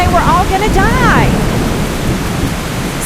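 A storm sound effect of steady heavy rain, with a deep rumbling wash that reads as thunder, plays loud and continuous. A voice speaks briefly over the start before the rain carries on alone.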